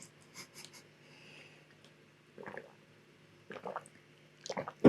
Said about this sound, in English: Let me take a sip of water.